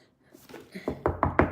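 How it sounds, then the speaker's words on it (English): Knuckles rap on a wooden table, a quick run of about four hollow knocks that build in loudness toward the end, close and clear with no talk over them. "Knock on my wood table."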